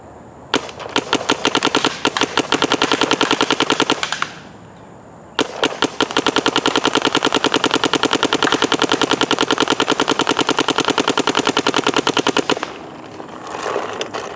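Paintball marker shooting HKArmy paintballs in long rapid-fire bursts, a dense, loud run of sharp pops lasting several seconds, a brief pause, then another sustained burst of nearly ten seconds.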